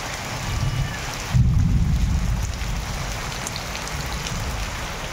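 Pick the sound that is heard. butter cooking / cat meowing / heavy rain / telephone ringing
heavy rain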